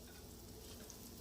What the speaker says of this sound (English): cooking the rice and getting it golden brown